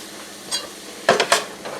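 Chopped frozen green pepper frying in a pan, a soft hiss broken by a few bright sizzling bursts and stirring scrapes near the end, close by with no talk.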